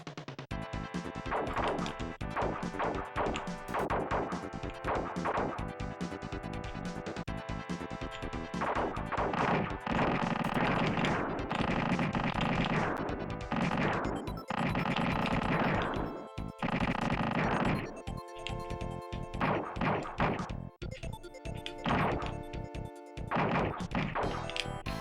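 S-Laser weapon in a Jaleco shoot-'em-up arcade game firing in dense, rapid electronic bursts, mixed with crashing explosions and game music, loud and continuous for the full length with no talking.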